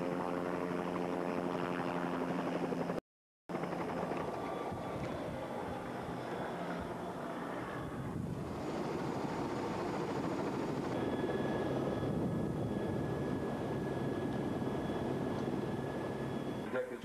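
Steady loud drone of a news helicopter engine and rotor as it starts up for takeoff over Los Angeles, a continuous roar with shifting whine, with a voice in places.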